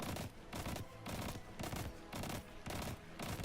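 Rapid bursts of automatic gunfire while aiming down sights in a shooter video game, four or five sustained volleys separated by brief pauses, loud and close with no talking.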